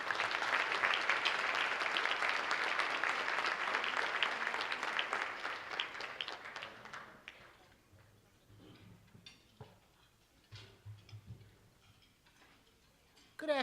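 Luncheon audience applauding to welcome a speaker at a humanitarian award event, steady dense clapping for about six seconds that fades away, followed by scattered small clinks and room noise.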